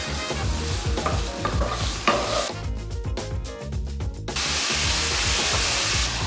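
Pancetta browns in a hot pan for carbonara, a dense, loud sizzle and crackle of frying fat with stirring scrapes, continuous throughout with a brief lull before the hiss surges again.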